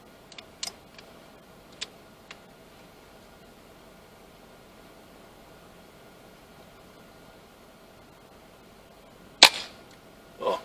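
A Brocock MTC air rifle fires once at a rabbit outdoors, giving a sharp, distinct crack late in the clip after a long stretch of near-silence with faint scattered ticks, and a second softer impact follows.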